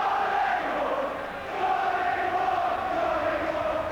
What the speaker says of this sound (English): as the crowds chant, the travelling crowds chant